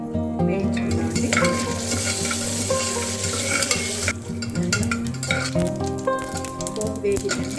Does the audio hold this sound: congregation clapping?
no